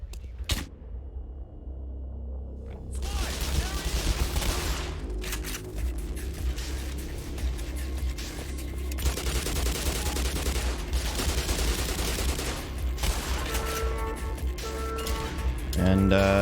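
Submachine gun fire in the game Black Mesa during a speedrun: dense, sustained bursts of rapid shots mixed with booms and crashing impacts, loud and continuous over several seconds, with other game noise throughout.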